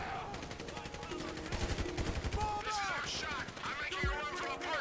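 Bursts of automatic gunfire fired while parachuting in Grand Theft Auto V, rapid repeated shots at steady volume mixed with game effects and talk over the top.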